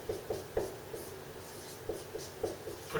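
A pen scratches out a derivative on paper in a maths lesson, with soft intermittent strokes and taps in uneven bursts, close and fairly quiet, with no talking.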